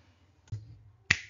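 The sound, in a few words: mouse clicking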